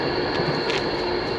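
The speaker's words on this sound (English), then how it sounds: "You can hear a train up there, the train tracks coming past" A train rumbles past on nearby tracks near Wigan, a steady broadband roar with a faint high whine, continuous and fairly loud throughout with no talking.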